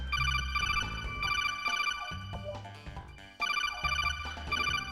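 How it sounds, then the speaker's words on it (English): A phone ringtone plays loudly in repeated melodic bursts with brief pauses between them, and nobody talks over it. "I have to answer my phone"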